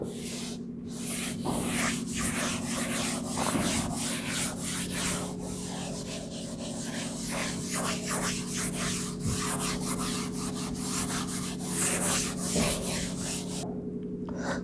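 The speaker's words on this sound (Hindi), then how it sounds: "बोर्ड फिल हो गया तो थोड़ा रब कर लेते हैं" Steady rubbing of a duster across a filled classroom board, a continuous scrubbing texture with faint repeated strokes, fairly close and alone without talk.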